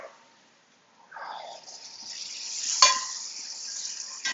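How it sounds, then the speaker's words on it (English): About a tablespoon of butter hits a hot pan used for ribeye steak tips, bursting into a rising hiss and sizzle after a near-silent start, with a sharp clink partway through. "Just going to throw about a tablespoon of butter in."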